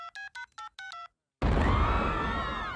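A cell phone number dialed in the Family Guy cartoon: a quick run of six or so short, clear keypad beeps in an uneven rhythm, followed after a brief silence by a sudden loud boom that rumbles and slowly fades.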